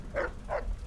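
Dogmeat the dog in Fallout 3 gives two short barks, evenly spaced and fairly close, over a quiet low background hum.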